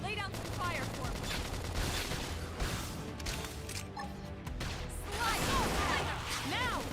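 Dense gunfire and weapon blasts from a battle in Xenoblade Chronicles X crackle in rapid bursts under a busy, loud mix of combat effects and voices.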